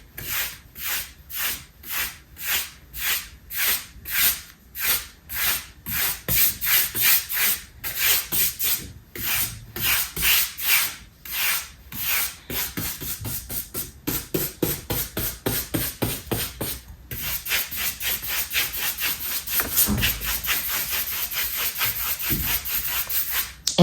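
Dry paintbrush rubbed back and forth over painted wood, a steady scratchy swishing in close, regular strokes that speed up into quicker, denser brushing partway through, with no talking.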